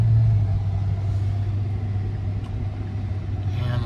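Tesla Cybertruck rolling into a truck stop charging area, a steady low electric drive hum with road and tire noise, fairly loud and continuous, no voices.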